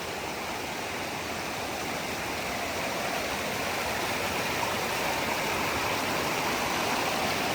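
The Haw River running high after a hurricane, a dense, steady rush of water that roars evenly and close up the whole time, with no voices over it.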